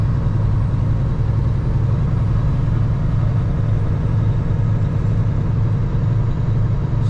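A car drives along a widening road heading northeast away from Sudbury, Ontario, a steady close engine and road rumble continuing without a break, with no talk.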